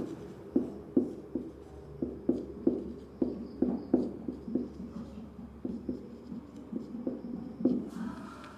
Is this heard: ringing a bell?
no